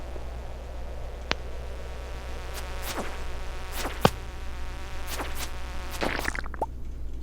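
An insect enemy in Stardew Valley gives off a thin, whiny buzz that keeps repeating while sharp attack sounds cut in over a steady background hum.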